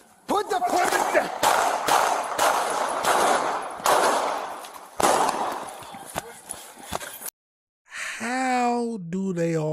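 Police open fire on an armed suspect: a rapid volley of loud, close gunshots cracks out in overlapping bursts for several seconds, then stops abruptly before a voice is heard.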